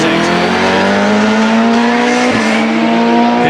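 Race car at the Shelsley Walsh hillclimb rushing into the bottom S, a loud, steady engine whine climbing slightly in pitch before a brief dip, with a commentator talking over it.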